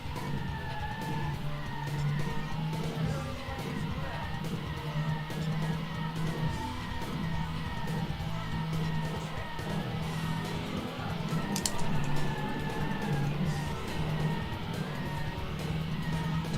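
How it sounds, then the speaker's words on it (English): Tyres screech in a racing video game on PS2, with long, drawn-out squealing tones over a continuous engine drone and game music. A brief sharp burst comes near the end. "Some of the screechy tyres."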